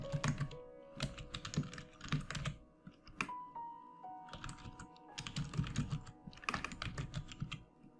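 Bursts of rapid clicking from a computer keyboard being typed on, several clusters of keystrokes separated by short pauses, close and fairly quiet, with a faint tone in the background.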